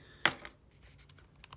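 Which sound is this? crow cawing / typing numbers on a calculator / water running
typing numbers on a calculator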